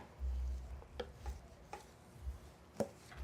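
A knife trims overhanging fat from the edge of a raw beef brisket on a board, giving a few soft scraping cuts and low thumps spaced a second or so apart, close and fairly quiet.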